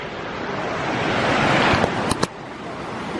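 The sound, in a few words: river water flowing around rocks in the Smoky Mountains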